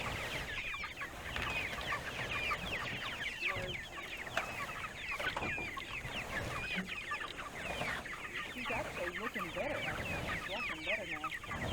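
A flock of farm chickens clucks and chatters nonstop, many overlapping murmurs and squawks close by, with faint background voices mixed in.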